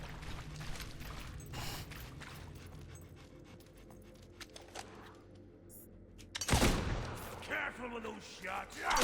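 Gunshots in the Fable 2 video game: scattered sharp reports amid busy game ambience, with a louder burst near the end, fairly quiet overall.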